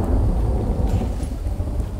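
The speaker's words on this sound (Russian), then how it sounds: "Молния, блин, задолбала, ё-моё." Thunder and heavy rain from a lightning storm in the survival video game The Infected, a dense, steady rumble with constant rainfall filling the whole stretch, loud and without any voices.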